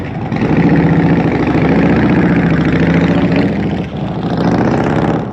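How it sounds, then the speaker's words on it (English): A custom chopper motorcycle, powder-coated black, fires up in cold weather and settles into a loud, steady idle, its deep engine rumble running almost continuously with one brief dip near the end. "The bike actually started right up."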